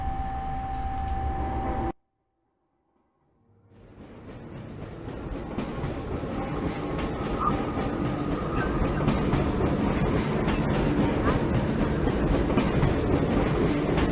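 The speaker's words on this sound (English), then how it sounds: "This train is en route from Level 3 dormitories to Sector C test labs and control facilities." The Black Mesa Transit System train from Half-Life rumbles along after a brief silence, building into a steady, loud clattering ride with metallic ticks and rolling rail noise.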